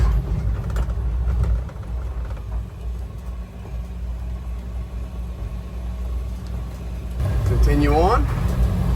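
Armored ambulance on a test drive in Ukraine, a loud rumbling engine and road drone running steadily, with a brief rising engine whine near the end.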